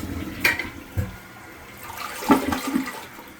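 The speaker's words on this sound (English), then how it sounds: "So here's what happens when this one gets flushed." A household toilet with a restricted, sluggish drain is flushed nearby, giving a weak gurgling rush of water with uneven surges and splashes.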